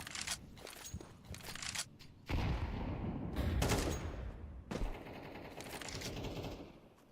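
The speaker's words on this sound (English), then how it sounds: "They have the rifles out, the M4s in play." Gunfire from M4 rifles crackles in a competitive team shooter match, with rapid bursts and scattered shots, some sharp and close, others farther off, separated by brief quieter gaps.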